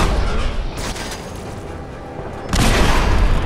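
Rapid gunfire and booming blasts from a sentry bot in a space shooter video game, a dense loud barrage that eases off briefly then surges again.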